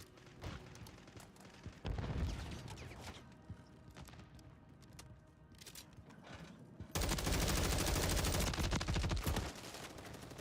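Video game gunfire from a military shooter, bursts of automatic rifle fire and sustained machine-gun fusillades, loud and close with a heavy rattling barrage near the end.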